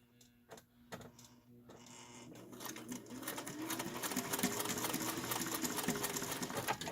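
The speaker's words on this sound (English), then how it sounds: "My machine doesn't want to go through all those layers of fabric." A home sewing machine stitches through thick layers of fabric while adding boning, starting with a few slow, halting needle strokes and then settling into a steady, rapid mechanical whir that grows louder and stays close.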